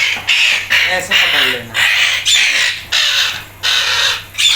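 A pet parrot screeches in harsh, repeated bursts while held in hand for feather trimming, loud and close, with someone speaking calmly underneath.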